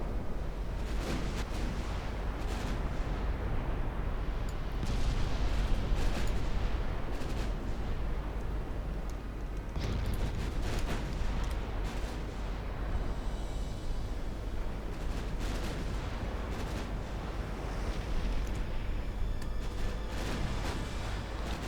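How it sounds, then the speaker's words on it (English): Mark 5 10-inch naval guns on Victoria Lee class warships fire in a naval battle game, a dense continuous barrage of heavy booms and crackling blasts rolling on without pause, loud and sustained. "Victoria Lee's class pumping out shots from their Mark 5 10-inch guns"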